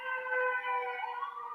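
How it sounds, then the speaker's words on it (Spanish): An ambulance siren wails steadily and loudly with a sustained tonal pitch, passing nearby without any talk over it. "déjenme que pase mi ambulancia"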